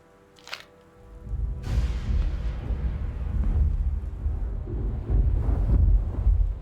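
A big lightning strike sends out a heavy, rolling peal of thunder that builds from a brief crack into a long, loud, low rumble, lasting several seconds and swelling again near the end.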